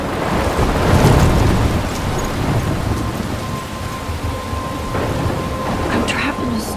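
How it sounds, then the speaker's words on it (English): Steady heavy rain with rolling thunder in a Life Is Strange game storm scene, a dense continuous wash of downpour with a deep rumble swelling early on, loud and close throughout. "I'm trapped in a storm?"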